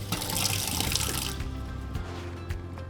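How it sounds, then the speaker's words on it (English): Running tap water splashes steadily onto a removed Bosch dishwasher filter being rinsed at a sink, loud and close for the first moments, then easing to a softer trickle with a few small clunks of the plastic part. "Remove the filter compartment and rinse it under running water."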